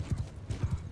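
Rapid, rhythmic hoofbeats of a galloping horse in the medieval battle game Mount & Blade II Bannerlord, a steady drumming clip-clop up close with battlefield noise behind.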